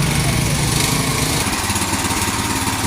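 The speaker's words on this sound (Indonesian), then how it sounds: "mesinnya sudah sampai di lokasi dan kita coba" A Ronin 7.5 horsepower cultivator engine runs nearby, freshly delivered to a field site. It gives a loud, continuous, buzzing drone with a busy, rattling tone and holds steady, with no speech over it.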